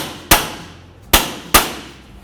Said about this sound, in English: I'm going to grab some penetrant and my pry bar and a small hammer, and we'll give it a couple bonks